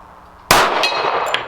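A single sharp metallic clang rings out as a .45 ACP bullet from a Dan Wesson Commander Classic pistol strikes a steel gong target, loud and bright with a short ringing decay.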